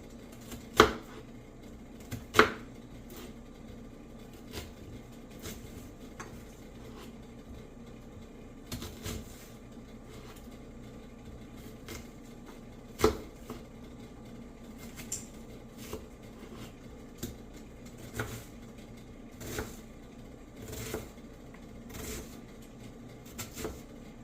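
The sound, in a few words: knife dicing an onion on a cutting board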